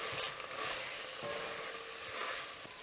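Garlic sizzles and crackles in a hot pan while being stirred for beef bourguignon with Burgundy wine, a steady, close, moderately loud frying hiss with soft scraping from the stirring and no voices.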